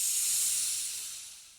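Steam hisses steadily and loudly in a sauna, a bright continuous rush that gradually fades away toward the end.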